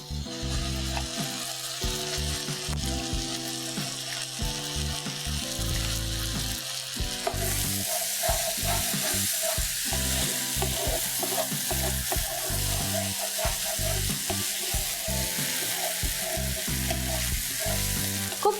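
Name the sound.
masala paste with cashew nuts and raisins frying in pan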